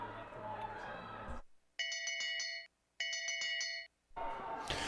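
A bell rings for the last lap of a speed skating race, two bright repeated ringing bursts standing out clearly between stretches of loud arena crowd noise.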